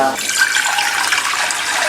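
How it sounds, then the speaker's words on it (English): A pot being filled with tap water for cooking corn pudding, a steady close rush of running water that holds its level for the whole stretch. "I just fill this pot with half of the water"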